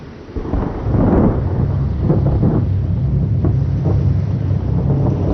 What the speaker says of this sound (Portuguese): Naquela noite, a tempestade que eles tentavam evitar atingiu a praia.